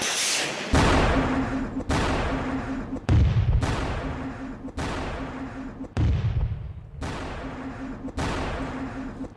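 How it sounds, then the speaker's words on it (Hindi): Rapid volley of heavy launches from a TOS-1 thermobaric rocket launcher, eight loud broadband blasts spaced roughly a second apart, each with a sharp onset and a long rumbling decay under a steady mechanical hum. "टॉस-1 ने, जो कि थर्मोबैरिक बम है, उसका इस्तेमाल किस तरह से अब रूस के ही खिलाफ किया जा रहा है"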